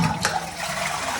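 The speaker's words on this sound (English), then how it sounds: "And flush is fine." A household toilet flushes in a loud, close rush of water that fills the whole brief moment without talk.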